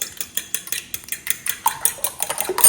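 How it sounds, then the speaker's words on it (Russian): A spoon clinks and scrapes against a bowl as eggs are stirred into a flour and cocoa batter for chocolate cinnamon rolls, with rapid, regular close-up strokes and no talking. "Вот так размешиваем"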